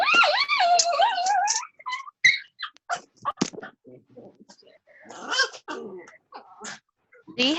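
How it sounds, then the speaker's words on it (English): A dog whimpers and yips in a run of high, wavering whines and short cries, close and fairly loud, with brief gaps between them. "Do you have a dog there?"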